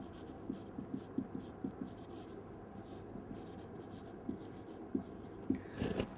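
A pen scratches across paper while a diagram is drawn by hand, giving short rhythmic strokes and squeaks, close and quiet, against a soft room hiss.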